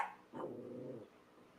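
A dog gives a low, rumbling growl lasting about a second, close and fairly quiet, after a brief whimpering note at the start.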